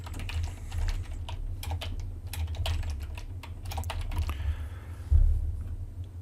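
Fast, steady keystrokes on a computer keyboard while a domain name is entered, close and clear without speech, ending in a single heavier thump.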